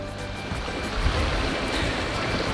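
A waterfall rushes in a steady, loud broadband roar, heard close and continuous on a Georgia overland trail, with no talk.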